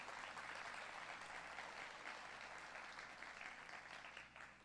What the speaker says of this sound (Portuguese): Eu queria que vocês aplaudissem a vida deles,